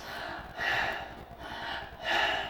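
Two quick, shallow breaths drawn high in the chest, each a short airy intake followed by a softer release, close and alone with no talking.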